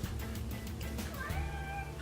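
A house cat gives one drawn-out, rising-and-falling meow close by, over a steady low hum in the room.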